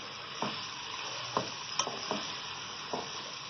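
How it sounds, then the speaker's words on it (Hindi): Onions frying in about one and a half cups of hot oil, a steady close sizzle with several soft scrapes of stirring scattered through it. "अब इसको गोल्डन लाइट ब्राउन फ्राई करेंगे हम"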